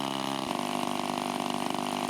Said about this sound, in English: the engine got with the program and sprang to life